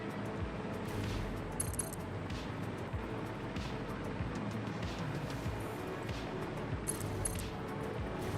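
Enemy gunfire aimed at the player in the video game Satisfactory makes a dense, continuous barrage of rattling shots, with sharper cracks breaking through now and then against a constant noisy rumble.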